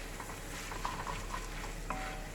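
Onions frying and being stirred in a pan for chicken pilaf, a steady close sizzle with soft scraping stirs and small clinks running through it, with no talk.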